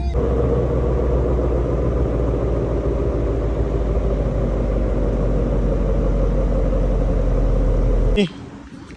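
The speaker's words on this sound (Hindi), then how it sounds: "सो गाइस फाइनली मेरे को पार्किंग मिल गई है, तो ये गाड़ी जा रही है" A car's engine rumbles loudly and steadily up close as it pulls out of a parking spot, then the sound cuts off abruptly near the end.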